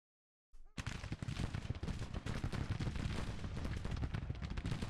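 Cavalry gunfire in the Grand Tactician strategy game: after a moment of silence, a sustained, dense crackle of massed musket shots rolls on continuously at steady loudness.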